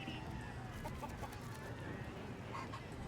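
Chickens cluck steadily in Baldur's Gate 3 over a dense, noisy game soundscape, fairly faint and continuous with occasional brief calls.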